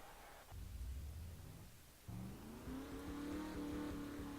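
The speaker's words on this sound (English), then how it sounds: "Drivers, start your engines." Race car engines fire up in a racing video game's Sonic 400 event at Kansas, with a low rumble and then a rising, steady engine drone of many cars, heard faintly with no talking.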